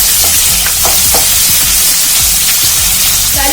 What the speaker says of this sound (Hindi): अब हम डालेंगे टमाटर। इनको भी हल्का से सौटे करेंगे।